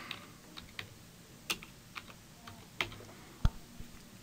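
Scattered keystrokes on a computer keyboard as a short title is typed, quiet and close, with irregular clicks and one sharper tap near the end.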